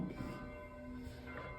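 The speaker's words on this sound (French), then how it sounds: "Vive les cloches, je sais pas pourquoi, alors qu'aujourd'hui on est mercredi" Church bells ring faintly in the distance, their sustained tones blending into a soft, continuous hum.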